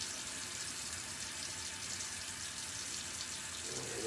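Tap water runs steadily into a sink as a small round paintbrush is rinsed of black paint, a continuous close hiss with no talking.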